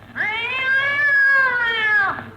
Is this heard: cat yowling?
yes